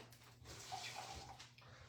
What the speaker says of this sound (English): I add just a little bit of water